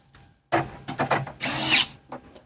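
A power drill drives a screw into a clamped, heavily modded custom sleeper PC case, giving close, loud whirring bursts of varying length, with one longer sustained run near the end and quiet gaps between them.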